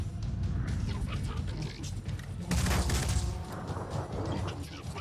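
Bulldog shotgun fire in the video game Phoenix Point, a heavy blast with a mechanical clatter that rises out of a busy, noisy background of game sounds, loud and close.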